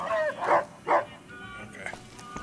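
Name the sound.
dog barking in video game Fallout: New Vegas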